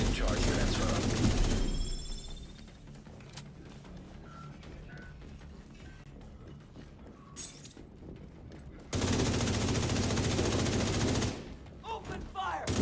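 Bursts of shooter video game gunfire open loud and dense, then drop to a quieter stretch with scattered mechanical clicks and beeps before a second heavy volley returns, with game voices mixed in.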